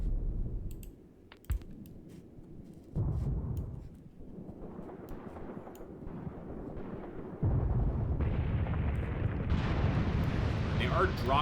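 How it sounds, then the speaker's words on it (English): An artillery barrage rumbles in Graviteam Tactics, a wartime strategy game: deep, distant booms and muffled blasts come in uneven waves, with sharp clicks scattered through and the rumble building louder toward the end. "They are dropping a lot of arty"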